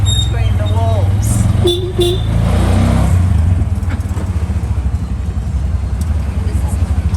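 A tuk-tuk ride through the narrow walled streets of the Guatemalan highlands: a steady close engine drone with a couple of short horn toots early on, and voices talking over the rumble.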